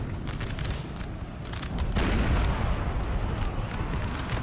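Cannons fire cluster shot in Napoleon Total War, a dense barrage of booming blasts and crackling bursts that swell louder midway and roll on continuously, with no voices heard.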